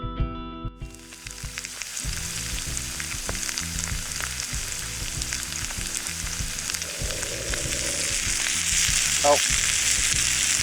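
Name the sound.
steak and potatoes frying in a pan at winter camp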